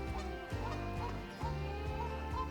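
Goose at a park lake honking repeatedly and loudly, a series of nasal calls with brief breaks, close by and with no one talking.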